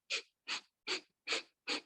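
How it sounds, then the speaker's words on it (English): Breath of fire in yoga: five rapid, forceful nasal exhales in an even rhythm, each a short close puff of air separated by brief silence. "I'm going to do breath of fire here."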